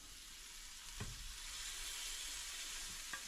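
Two larger venison burgers sizzle in a pan over a low burner, a steady close frying hiss with a couple of soft clicks, no talking.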